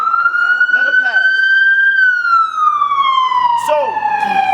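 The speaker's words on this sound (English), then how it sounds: "I'm gonna wait till the ambulance go by" An ambulance siren wails loudly and close by, its steady tone rising then slowly falling as the vehicle passes, with a voice speaking over it.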